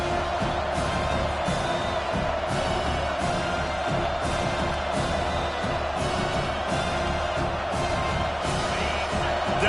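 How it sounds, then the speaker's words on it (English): A football stadium crowd roars behind the defense on third down, a dense, continuous wall of cheering and whoops that stays loud and steady throughout. "Decibels rising as the crowd gets behind this defense on 3rd down."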